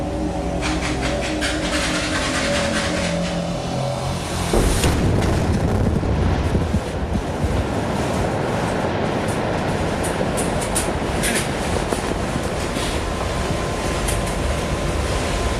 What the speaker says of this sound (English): That blast fractured 100 tons of rock